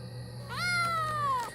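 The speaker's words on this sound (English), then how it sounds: "a cat approached me" A single cat meow in an animated scary story, rising then slowly falling into one drawn-out, clear call heard close over a faint background hum.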